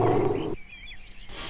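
A lioness in an animated story lets out a loud, close roar that breaks off abruptly and gives way to faint chirping in the background.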